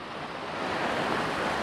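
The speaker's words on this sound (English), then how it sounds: "the waves are breaking over these rocks here" Sea waves break over rocks in a bay, a steady broadband wash of surf that swells slightly louder toward the end, with no voices.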